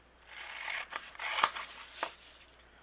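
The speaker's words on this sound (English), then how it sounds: "I'm just going to cut it out." Scissors snipping through red metallic cardstock: a few close, crisp cuts with short swishing strokes and one sharp snap in the middle, quiet and alone.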